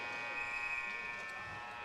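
Hockey period-end buzzer in a rink, a steady sustained electronic buzz droning through the whole stretch under crowd and arena noise.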